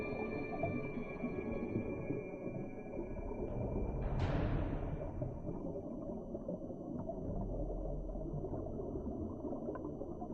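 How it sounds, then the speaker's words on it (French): A humpback whale calls underwater off Canada's west coast, a single rising and falling moan standing out from a dense, rumbling ocean ambience. "une baleine à bosse joue avec son petit"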